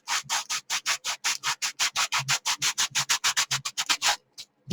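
Plaster gauze is rubbed out by hand in rapid, rhythmic scrubbing strokes, about two dozen close, raspy swipes in steady succession before a short pause.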